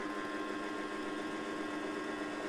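A sewing machine running fast, a steady high whirring drone with a fine mechanical buzz, close and unbroken for a couple of seconds with no voices.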